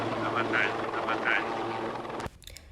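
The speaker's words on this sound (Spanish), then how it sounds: "el presidente se retiró en un helicóptero" A helicopter with a rhythmic thudding rotor flies away from the Casa Rosada while crowds of protesters fill the area. The pulsing beat is steady and loud, with a voice talking over it, and then it cuts off sharply.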